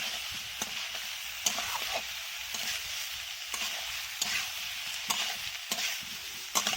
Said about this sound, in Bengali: এবার আমি আদা, জিরে আর ধনে বাটাটা দিয়ে দিলাম।